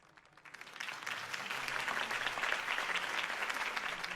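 Sustained crowd applause in a Batman video game, following a campaign speech by Harvey Dent; the clapping swells quickly from a quiet start and stays dense and steady throughout.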